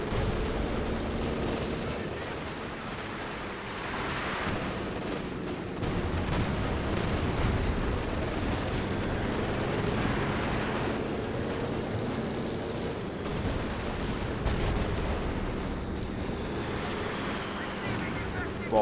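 Anti-tank rounds and gunfire crack and boom repeatedly through a Company of Heroes 2 battle, with a Panther tank in play, layered over a continuous rumbling wash of battlefield noise, while a voice talks over the action throughout.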